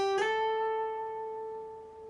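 A single guitar note picked on the B string, sliding up to the 10th fret and held with vibrato, ringing clearly alone and slowly fading over about two seconds.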